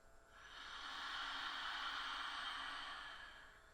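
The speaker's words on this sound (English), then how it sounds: "take a really deep breath in through your nose. And exhale out through the mouth" A single slow, deep breath drawn in through the nose and let out through the mouth during a yoga session, a long soft airy hiss that swells and fades, close and quiet.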